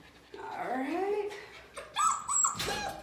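A puppy from a litter whimpers and yips in rising, whiny cries, close and soft, with brief higher squeals near the end.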